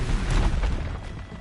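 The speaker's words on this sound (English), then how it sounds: "Killing the sawtooth off with the explosion" A deep, rumbling explosion in Horizon Zero Dawn destroys a Sawtooth machine, a loud low boom that swells quickly and then decays into a lingering roar.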